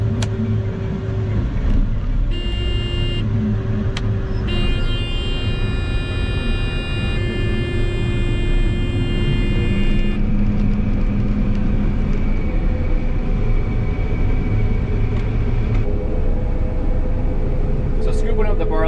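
A combine harvester cuts barley at the south end of a farm field, its engine droning loud and steady throughout while tonal whines rise and drop away. A voice talks over the machinery.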